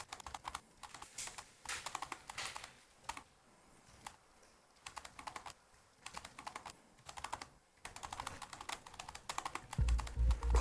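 Fast typing on a computer keyboard, quick clusters of light clicking keystrokes in several bursts separated by brief silences, fairly quiet and close, with a low thump near the end.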